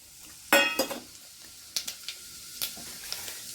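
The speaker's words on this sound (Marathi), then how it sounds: "आता जिरे आपले तडतडून झालेले आहेत" Cumin seeds hit hot oil in a pan with a sharp initial sizzle, followed by scattered pops and crackles plus a few light clinks of a utensil, close and fairly quiet.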